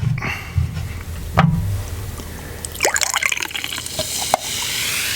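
Ginger ale poured into a shot glass, with a liquid splash and fizzing, glassy clinks and drips scattered across several seconds, fairly close and with no talk.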